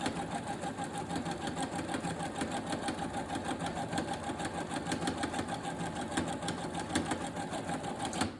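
A sewing machine runs steadily, stitching straight down the middle of a fabric wrist strap for a wrist wallet, with a continuous fast mechanical whir and needle clatter at a fairly close, even level throughout, no talking.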